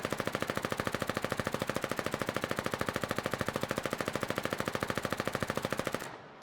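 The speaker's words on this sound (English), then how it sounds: "look what happens when I try to fire the Fiddler SMG at full blast" The Fiddler SMG in the Foxhole video game fires on full automatic, a long unbroken stream of fast, evenly spaced shots for about six seconds before cutting off abruptly.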